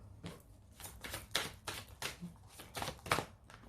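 Cards handled from an angel oracle deck, a run of quick papery shuffles and flicks in irregular bursts, close and fairly crisp, with no talking.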